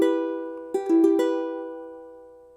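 A ukulele E minor chord strummed once and left ringing, then rapidly re-strummed a few times before fading out alone, clear and close.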